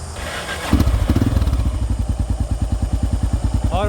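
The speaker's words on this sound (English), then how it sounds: "I'll just do a couple of slow laps around here, show you how it runs and how responsive it is" A Honda XR650L motorcycle fitted with a Mikuni TM42 carburetor revs up and then chugs along in a slow lap, its loud, steady single-cylinder thump pulsing close by.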